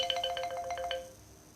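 A mobile phone ringtone plays a quick, bright electronic melody of rapid repeated tones for about a second, then fades out, moderately quiet against faint background noise.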